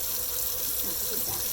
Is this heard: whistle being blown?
no